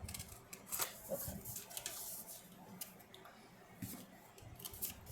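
Scissors snip through the top of a paper teabag holder in a few quiet, close cuts, with soft rustling and handling of paper between snips.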